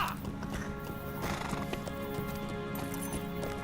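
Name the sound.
horse hooves in LOTRO video game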